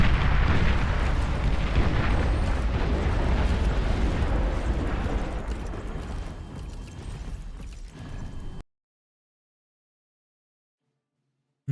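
Buildings exploding in a video game: a long, loud, rumbling blast with crumbling debris that slowly fades over several seconds and then cuts to silence.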